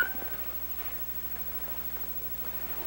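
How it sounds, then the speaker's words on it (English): A cat meows faintly once or twice in a quiet room over a steady low hum, with no talking. "Get that cat out of here."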